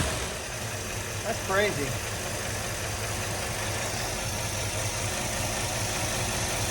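A revived 1957 Chevy engine with its factory carburetor idles steadily, a continuous rumbling drone close by, while a voice briefly comments over it.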